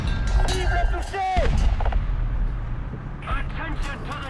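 A tank cannon fires a track shot in War Thunder, a heavy boom and rumble of artillery-like gunfire loud among engine noise, with game sound effects around it.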